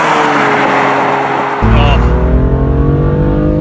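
A 2017 BMW M2 engine pulls hard and loud from inside the car, rising in pitch, then drops and climbs again after a sharp gear change, steady and close.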